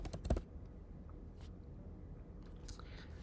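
A few quick keyboard taps at the start while typing a command into a computer, then near silence with faint clicks later; no talking.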